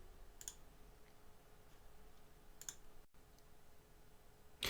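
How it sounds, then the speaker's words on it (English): Mouse clicks and keyboard taps while a form is filled in on a computer, a few faint clicks spread over a quiet room hum, with a louder burst of clicking at the end. "I click the let's eat link at the bottom after typing everything in"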